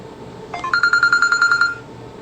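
Telephone line tones on a radio call-in show at a temple, a steady train of about a dozen evenly spaced electronic beeps, loud and clear for roughly a second, with faint background hiss before and after.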